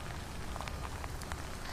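Heavy rain pours steadily over a flooded Livingston area, a dense, even hiss of drops drumming on surfaces with scattered sharper splashes, continuous and fairly faint, with no voices.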